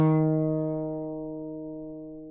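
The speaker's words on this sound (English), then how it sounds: "so it's telling me 4th string at the 1st fret." A single guitar note plucked on the 4th string at the 1st fret rings out clearly and slowly decays over about two seconds, alone and close.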